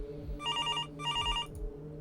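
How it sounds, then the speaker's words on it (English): An old-style telephone rings in two bursts of trilling bells, separated by a short pause, heard over a low background hum in a horror scene. "The sound of that phone ringing had become sickening"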